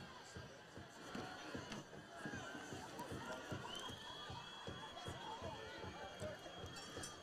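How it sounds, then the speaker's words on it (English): Parents stomp on the stands at a high school football game, a dense rumbling of rapid thuds under crowd noise and shouting, fairly distant and continuous. "You can hear them stomping the stands right now."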